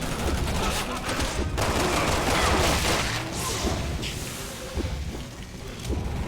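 In the video game Resident Evil 6, machine gun fire rattles in a loud, sustained barrage of rapid shots with crashes and booms mixed in, filling the whole stretch without a break.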